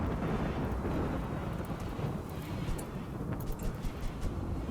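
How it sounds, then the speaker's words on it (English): A thunderstorm in the video game RimWorld rumbles low and constant, with a dense wash of rain and wind and faint crackles above, steady and enveloping with no voices. "So, if you see it's a dry thunderstorm,"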